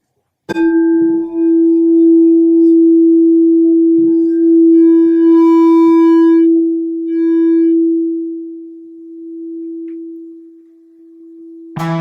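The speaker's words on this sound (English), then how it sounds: "So E, I'll play it on the bowl" A singing bowl is struck once on the note E and rings with a pure, sustained tone that swells and wavers slowly, fading over about ten seconds.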